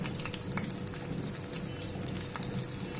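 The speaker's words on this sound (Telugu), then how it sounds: "నూనెలో వేసి వేయించేటప్పుడు సీల్ అయిపోతాయి" Stuffed brinjals fry in oil with a continuous, bubbling sizzle, loud and close, with small crackles scattered throughout.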